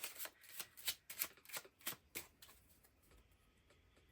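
Tarot cards being shuffled during a pick-a-card reading, a quick run of crisp riffling bursts, close and fairly quiet, fading out over the last second with no talking.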